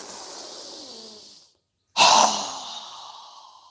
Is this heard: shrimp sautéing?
no